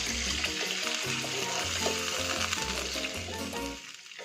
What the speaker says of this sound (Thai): เราจะมาเติมน้ำลงไปนะคะ